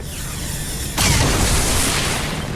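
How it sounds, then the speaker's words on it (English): A single sharp gunshot booms in the Xbox game XCOM, striking suddenly about a second in and leaving a loud, noisy tail that slowly fades over a constant background bed. "Noble's going to take a shot."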